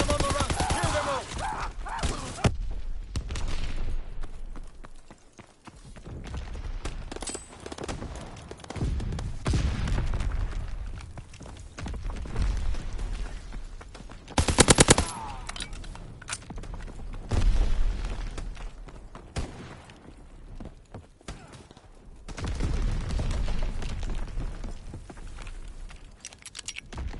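Rifle and machine-gun fire in a World War II shooter game, with bursts of shots, loud booms and explosions scattered across a stretch of battlefield noise.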